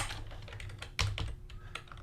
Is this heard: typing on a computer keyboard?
yes